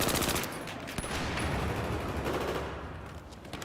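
Rapid automatic gunfire from cover in the video game Battlefield 4, with sustained bursts of shots rattling continuously throughout.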